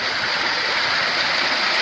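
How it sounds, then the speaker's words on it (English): Steady broadband rush of flowing water in a hotel lazy river in Hawaii, continuous and fairly loud, with no talking. "We're like halfway through the river right now."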